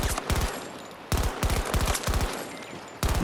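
Rapid bursts of gunfire in the game Battlefield 2042, sharp cracking volleys of several quick shots each, repeating in clusters with short gaps between, loud and close.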